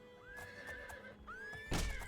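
A horse in the video game Oblivion gives two clear neighs, each a rising whinny, followed by a short burst of hoof noise at the end, fairly faint and with no talk over it.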